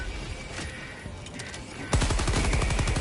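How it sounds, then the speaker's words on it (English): Rapid automatic gunfire in the shooter game Helldivers 2, a dense burst of close, loud shots beginning abruptly partway through after a quieter stretch of ambient game noise. "It's throwing off all my skills firing a damn gun."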